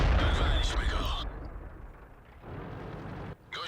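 A loud tank cannon blast in World of Tanks, fired by a Dicker Max tank destroyer, booms at the start and rumbles away, followed by quieter mechanical background noise.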